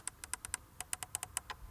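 About a dozen crisp, close clicks in an uneven quick rhythm as the metal-knurled manual temperature control knob in a Porsche Cayenne Turbo S E-Hybrid is turned, with no talking.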